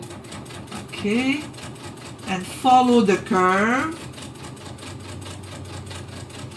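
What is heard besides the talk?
sewing machine stitching a curve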